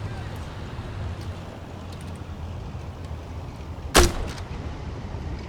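A single sharp gunshot cracks out once, loud and close, across a low windy rumble as players fire on a tank in a war video game during a field exercise.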